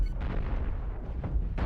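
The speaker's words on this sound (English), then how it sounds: "That's the thing about cannons. Like, yeah, they'll rip them apart, but sometimes it's really hard to hit what you want." Heavy cannon fire from a spaceship in a space combat video game, a dense run of deep booming blasts rolling continuously with a few sharper bursts near the end, loud and with no talking.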